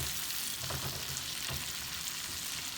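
Onions and garlic sizzle steadily in butter with leftover shrimp seasoning, a continuous close frying hiss with faint stirring.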